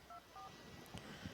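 Two short touch-tone telephone dialing beeps sound near the start of a call being placed, followed by faint handling noises and soft background bumps.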